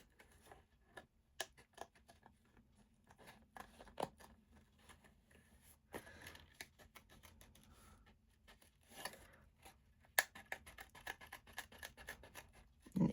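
Scissors cutting closely around the edge of a moth shape on a handmade card, a long run of soft, irregular snips and paper rustles, quiet and close, with a few sharper clicks scattered through.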